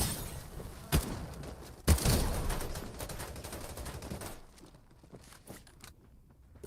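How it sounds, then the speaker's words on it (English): Shotgun blasts in the battle royale game Farlight 84: two sharp, loud booming shots about a second apart, followed by fainter scattered gunfire and ambient game noise fading out. "Okay, with the shotgun."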